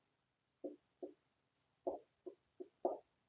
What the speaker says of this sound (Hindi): तो चलिए हम लोग इसे थोड़ा लिख लेते हैं।